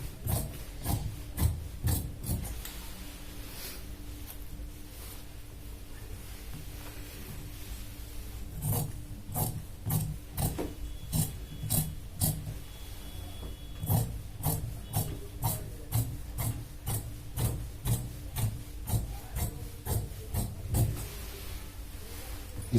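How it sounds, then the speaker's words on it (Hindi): Scissors cut through shirt sleeve fabric in a tailoring session, a series of crisp rasping snips in quick bursts with pauses between runs, close and moderately quiet over a faint background hiss. "इस तरह से बाजू काटते हैं।"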